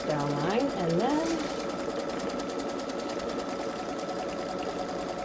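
Babylock Solaris embroidery machine stitching a tack-down line: a steady, close mechanical whir with fast regular needle pulses that runs without a break, and a brief voice heard near the start.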